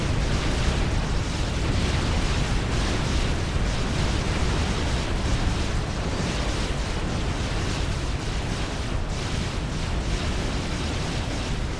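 Dense, continuous barrage of artillery fire and explosions from Supreme Commander: Forged Alliance battle, including T2 artillery pounding mobile missile launchers, a steady loud rumble of overlapping blasts with no voices.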